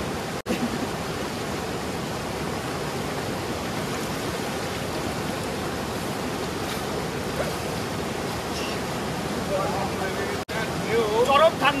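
A strong current of cold river water rushes in a steady, dense roar close by, continuous and full, with faint voices barely present beneath it.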